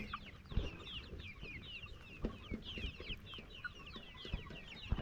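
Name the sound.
improved kienyeji chickens clucking on a layers farm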